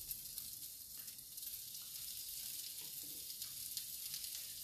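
Chorizo skewers sizzle on a grill over a drip tray, a soft, even crackle with no voices, steady and moderately close throughout.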